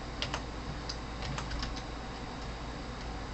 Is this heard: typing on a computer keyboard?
yes